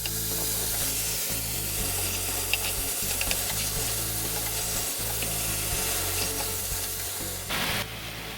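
Pork belly is stirred with oyster sauce in a pot for Lao tom khem, with steady scraping and stirring over a continuous loud sizzle that runs without a break and carries no talk.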